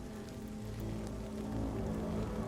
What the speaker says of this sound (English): you can feel the rumble of the raindrops